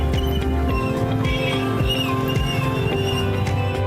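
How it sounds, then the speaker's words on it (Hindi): A horse walks the crowded roads of the Kumbh fair in Prayagraj, its steady hoof clops sounding close under a continuous wash of fair noise and tonal background sound. "अभी अपने घोड़े को मेले की सड़कों और रास्तों से परिचय करा रहे हैं।"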